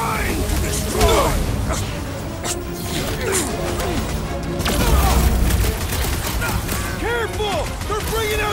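Heavy gunfire and explosions in the Marvel's Guardians of the Galaxy video game, a dense, loud barrage of shots and booms running continuously with sci-fi whines, voices shouting over the battle.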